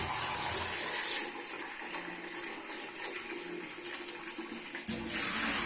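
Cold tap water runs steadily over boiled desi eggs in a bowl, a continuous close splashing gush with a brief shift near the end, no voices.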